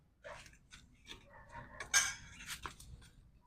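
A metal plate set down over a pan of onions cooking for gongura, a few quiet clinks and scrapes with one brighter clatter, close and brief, no talking.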